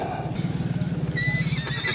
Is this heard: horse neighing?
yes